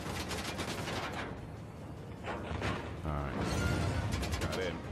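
Gunfire in Uncharted: The Lost Legacy, a dense stream of rapid shots and crackling reports running through the whole stretch, loud and close, with a short calmer gap partway through.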